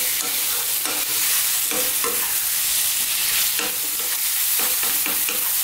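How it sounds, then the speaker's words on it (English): Spices and vegetables for baingan bharta fry gently in a pan, a constant soft sizzle broken by repeated scraping stirs of a spoon, close up and with no voices. "Let's just gently fry this around."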